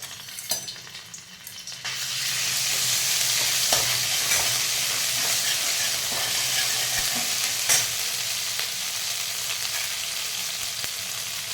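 Ginger dropped into hot oil in a kadai for veg Manchurian gravy bursts into a loud, close, continuous sizzle after a few quieter clinks, then holds steady with occasional small pops.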